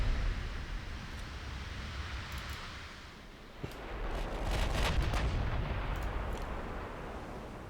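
Heavy naval artillery from an Alsace-class battleship in a warship game booms and rumbles, broad and distant, with a sharper crack and rolling follow-up blasts mixed into steady battle noise.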